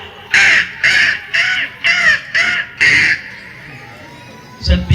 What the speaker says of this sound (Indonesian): Allah utus burung yang berbondong-bondong